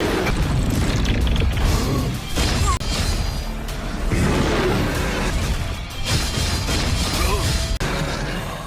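A character's body explodes in an animated sci-fi fight scene: sustained, loud booming and crashing rumble with dense low-end blasts and debris-like clatter, surging and dipping over several seconds with no talk.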